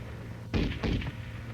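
M73 tank machine gun firing, two or three heavy close reports in quick succession with a brief ringing tail, loud and alone after a moment of quiet.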